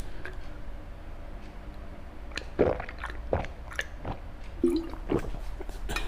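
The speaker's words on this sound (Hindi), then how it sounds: "आपके सामने देखो मैं एक घूंट लगाता" A sip of water from a glass, heard as a few small wet slurps and gulps scattered over several seconds against a faint, steady room hiss.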